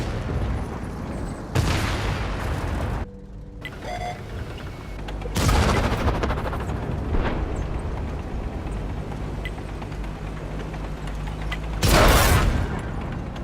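Tank cannons firing high-explosive shells in an Xbox tank battle game: several loud, sharp booming blasts spaced a few seconds apart, each followed by a rumbling tail, over continuous engine and mechanical noise.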